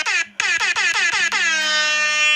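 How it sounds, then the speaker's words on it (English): A phone air horn app blares in a rapid run of about seven short bursts after one opening blast, then holds into one long loud tone, close and harsh. "That's my air horn app on my phone."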